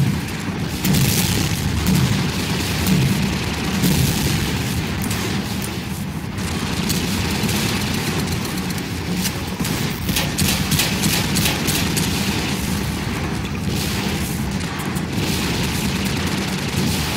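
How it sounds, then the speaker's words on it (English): Rebels shoot back in Garry's Mod, with dense, loud gunfire and booming shots over a constant rumbling game background, growing into rapid bursts of shots near the end. "You'll notice there are some rebels out there who are shooting back."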